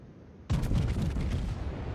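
Naval guns boom in a warship battle game against an enemy Seattle cruiser: one sudden heavy blast, then a sustained rumbling roar of continued gunfire with crackling overtones, loud and close.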